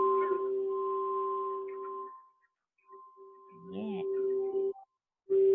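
A singing bowl tuned to the G note rings with steady, pure sustained tones that fade out and then return. A person speaks briefly over the ringing, and a voice also sounds on its own near the middle.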